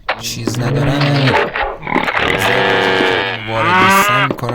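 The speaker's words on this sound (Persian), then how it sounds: "اینجا ببینید این گاوام ازشون واقعا میترسم" Cows in the Minecraft video game moo several times in a row, loud and close, with long drawn-out lowing calls broken by brief pauses and no talk over them.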